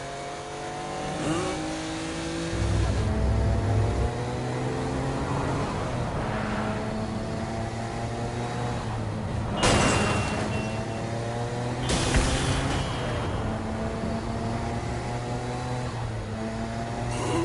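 A car driven in the Saints Row video game, with a steady engine drone that swells into louder revving bursts and occasional tire squeal, continuous for the whole stretch and without talk.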